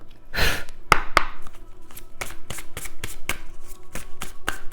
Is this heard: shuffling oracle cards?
yes